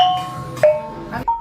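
Kulintangan gong set struck a few times, bright sustained metallic tones ringing out one after another, close and fairly loud with decaying resonance between strikes.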